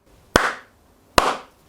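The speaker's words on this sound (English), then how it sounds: "Someone clapped from behind" Two sharp, close single claps about a second apart from one person standing behind a man sparring with wooden swords in a castle courtyard, each snapping loud and alone before quickly decaying.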